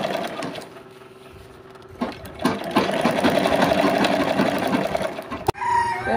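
A sewing machine stitches a stool seat cover, first in short bursts and then in a fast steady whirring run of rapid needle clatter, close and loud, ending with a sharp click, with no talking.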